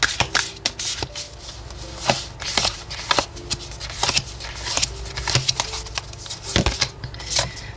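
Oracle cards are shuffled by hand in quick, crisp riffling bursts, repeated in a steady rhythm throughout, close and clear with no talking.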